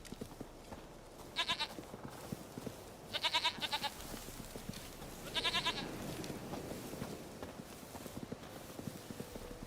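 Goat bleats in a video game, three short quavering calls spaced about two seconds apart, medium-near, over a busy background of footsteps and ambient game noise.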